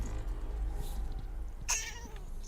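A cat in a space video game gives a short, sharp meow over a low steady hum of ambient engine drone, with a faint background tone running beneath.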